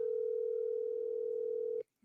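A steady telephone ringback tone hums for nearly two seconds while calling someone, then cuts off abruptly, followed by a brief click and a burst of noise.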